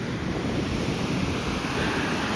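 Surf on a beach near a homestead, a steady loud wash of breaking waves blended with heavy wind buffeting the microphone, continuous with no pause.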